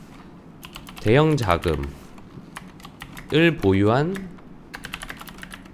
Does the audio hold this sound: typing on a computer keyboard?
yes